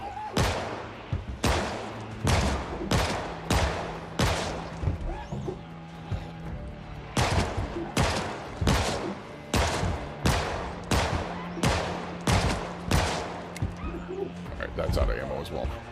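Repeated gunfire in the video game Project Zomboid, sharp loud shots fired in rapid bursts with brief pauses between volleys, under occasional talking.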